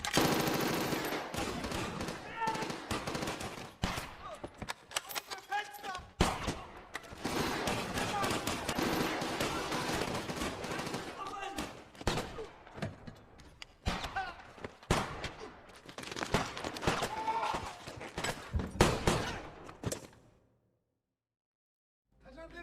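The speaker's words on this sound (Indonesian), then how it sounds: "Yasir tanpa pikir panjang langsung menembaki mereka." Soldiers fire weapons in a war film battle against Nazi troops, dense bursts of loud automatic gunfire and scattered shots running almost continuously, with faint voices mixed in, ending in abrupt silence.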